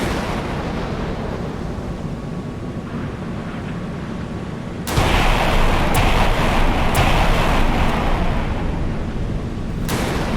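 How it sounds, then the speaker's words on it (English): Surface-to-surface missile launches and Aster missiles in the naval video game Sea Power, with an Arleigh Burke destroyer facing a Type 45: a steady roaring rush that jumps louder midway, punctuated by several sharp launch blasts. "so slowly the surface-to-surface missiles are being shot off, but also we've got some Asters shot off"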